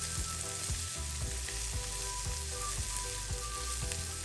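Okra masala (bhindi bhaji) fries in a pan with an even, continuous sizzle and faint stirring clicks, close and fairly quiet, with no talking.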